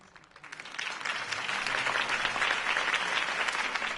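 Video game applause from a sizable crowd swells in after a quiet start and holds steady and dense, a continuous wash of many hands clapping.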